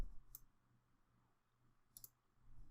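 Two crisp, faint computer mouse clicks about a second and a half apart, heard alone against quiet room hiss while working in ProCalc calculation software.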